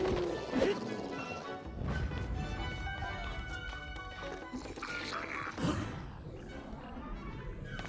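A rock smashed open in the video game Tears of the Kingdom, with a loud crashing impact near the start and another heavy hit around the middle, over busy game music and effects.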